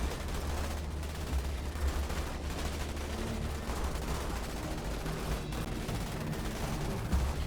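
Troops in the video game Starship Troopers Terran Command fire guns in dense, continuous volleys of crackling shots that blend into a steady roar of battle at moderate distance.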